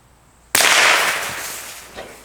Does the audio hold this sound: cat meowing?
no